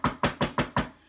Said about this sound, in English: knocked on the front door